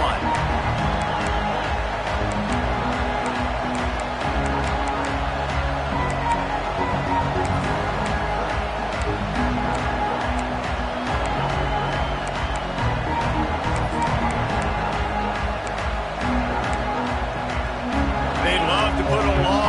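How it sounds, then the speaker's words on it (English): A stadium crowd roars steadily in a college football video game, loud and continuous throughout, with a commentator talking over the noise. "with this place rocking, the crowd forces a false start"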